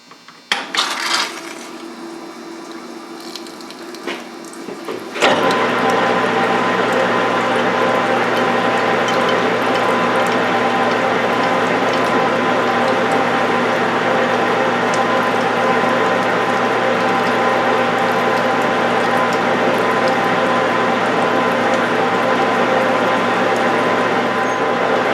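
A reamer cuts a rifle chamber in a Mauser barrel on a lathe, with coolant running: a steady, loud mechanical whirring drone that starts abruptly after a few quieter seconds of clicks and handling noise and then continues unbroken.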